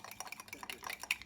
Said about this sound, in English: you can either use a whisk, but I choose to go ahead and kind of stir it up with that